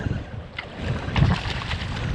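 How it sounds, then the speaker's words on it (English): Gusty wind buffets the microphone over open water during wade fishing in Tampa Bay, producing a loud, uneven low rumble that swells and eases, with no voices present. "Wind is picking up. I hope the wind noise isn't too bad for everyone."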